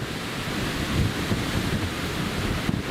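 Steady, loud wind buffeting a microphone outdoors at an airfield, a continuous low rumble with gusty swells and no voices.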